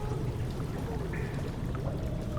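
Water draining in the horror game Amnesia: The Dark Descent: a steady, continuous rushing pour with a faint gurgle and low rumble, unchanging throughout.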